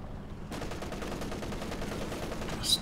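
An MG34 machine gun in Company of Heroes 2 opens up in a sustained rapid burst of evenly spaced shots, loud and steady over a battlefield background, without talking.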